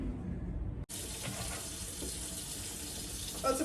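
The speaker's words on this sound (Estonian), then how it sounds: "Vesi käima." Water gushes from a tap into a sink with a steady, close splashing rush that begins abruptly after a short click, with faint background noise.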